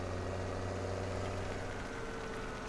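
A tractor engine in Farming Simulator 17 idles steadily with a low, even drone and faint mechanical vibration, continuous and close throughout with no talk.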